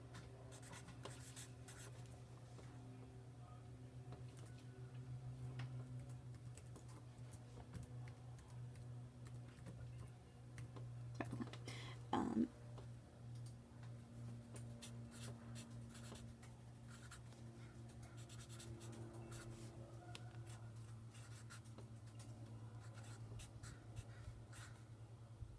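Pen strokes scratching on paper while drawing label lines on a cell and organelles diagram, soft continuous writing sounds with brief louder scratches, steady low hum underneath and no talking.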